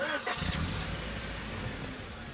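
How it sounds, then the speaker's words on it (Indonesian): A car engine cranks and catches, then settles into a steady, dense running rumble, fairly loud and close, with no voices. "Saat menghidupkan mobil"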